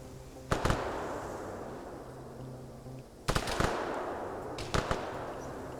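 Gunfire in an Arma PvP match video game: three separate bursts of rapid shots with a few seconds of steady low background between them, moderately loud and with no talk.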